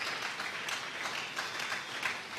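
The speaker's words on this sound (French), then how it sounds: "Nous acclamons très fort pour le roi de Dieu" A church congregation applauds during worship, a dense steady clapping that fills the room at moderate loudness, with no speech over it.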